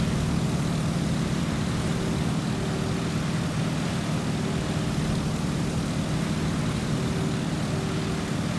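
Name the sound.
Stearman biplane engine and propeller at full RPM, from Microsoft Flight video game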